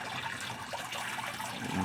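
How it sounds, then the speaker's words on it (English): Water gushes from a siphon tube in a greenhouse bed as a steady, close, splashing flow that grows slightly stronger toward the end. "eventually enough of it comes out at once that it forms a pure column of water coming out"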